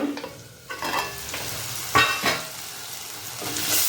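Green leaf curry frying gently on low heat while a spoon stirs it, soft scraping strokes over a steady quiet sizzle, close by and without speech.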